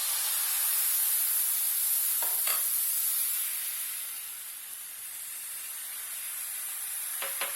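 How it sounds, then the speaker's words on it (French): Buckwheat galette batter sizzling in a hot, ungreased pan: a steady, even hiss that dips slightly midway, with a couple of brief clicks. "Une fois que notre poêle est bien chaude, on vient déposer notre pâte."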